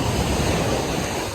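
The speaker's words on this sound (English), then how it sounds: "As the waves crash in, you can see all of the seaweed." Ocean waves crash on a beach shore as a brief, dense wash of broadband surf noise with a windy roar, steady and fairly loud throughout.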